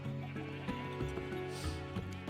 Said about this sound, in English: We got all of the sheep.